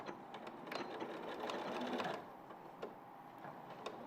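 Sewing machine stitching through felt, a steady mechanical whir with rapid needle ticks running throughout, fairly close and continuous, swelling slightly in the middle before settling.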